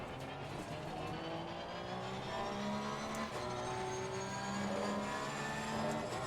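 Race car in the Assetto Corsa Competizione sim racing game, a steady loud engine whine with rising and falling gear tones throughout, close and continuous, without talk.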